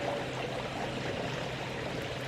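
Steady trickle of water from a garden fountain in an English country garden, a continuous close splashing flow with no voices.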